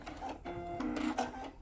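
A sewing machine back-stitches the cuff of a fabric Santa stocking, giving a steady mechanical whir with a short pause partway through, close and fairly loud.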